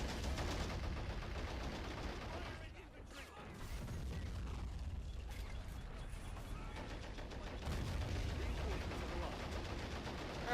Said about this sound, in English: you need to use the machine gun that's actually useful for once